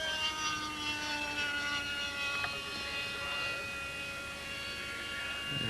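RC model A-7D ducted fan jet powered by a KMB 82 engine with a Byron fan flying at an outdoor fan fly event, a steady high whine with a continuous hiss held at moderate distance.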